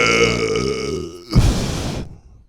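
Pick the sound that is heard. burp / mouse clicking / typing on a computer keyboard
burp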